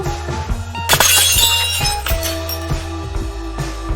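A stone smashes a house window and the glass breaks with a sharp crash, followed by scattered tinkling shards over a low musical background.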